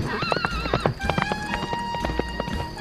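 A horse's hooves clip-clop in a quick rhythm with loud whinnying and neighing over them, set in a story scene of a rider leaving a house and galloping away.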